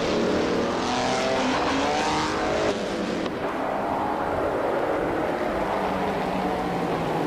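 A classic 1950 Ferrari 125 race car roars steadily in a racing video game at the Lausitzring DTM circuit, a continuous loud engine drone with other cars mixed in and a brief shift in tone partway through.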